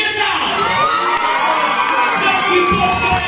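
Loud crowd at the Miss Roma 2025 pageant cheering, shouting and whooping continuously as the winner is announced, with dense high-pitched voices filling the room.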